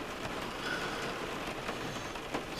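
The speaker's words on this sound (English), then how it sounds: "So yeah, we got this spooky side where it's blowing rain coming down." Wind-driven rain pours down steadily in cold, late-winter weather, a dense continuous hiss with scattered drop impacts and no voices.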